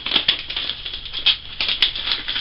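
Masking tape being pulled off the roll and pressed onto a 1996 Yamaha FZR motorcycle seat over a cardboard template, close crackling rasps in short uneven bursts, with no one talking.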